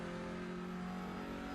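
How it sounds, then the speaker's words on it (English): Race car engine in iRacing revs up as the car pulls away from a standstill, a steady, buzzing mid-pitched drone held for a moment at moderate level, with no talk. "He's got the car primed on the revs, just under 25 seconds stationary. And he gets his car underway once again."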